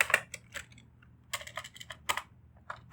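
Code goes in on a computer keyboard, quick bursts of light key clicks in uneven clusters with brief pauses, close and quiet, no talking.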